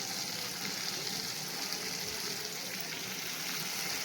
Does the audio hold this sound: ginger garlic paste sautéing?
yes